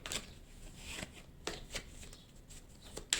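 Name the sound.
cutting a deck of tarot cards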